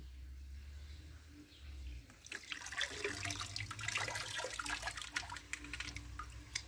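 Water pours into a bucket of hydrated lime being mixed as whitewash paint, a close splashing gush that starts after a low rumble and continues unevenly for several seconds.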